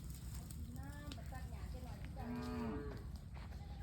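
A water buffalo lows twice in long, moaning calls with rising and falling tone, heard at moderate distance over steady low rumbling background noise, with a voice speaking faintly in between.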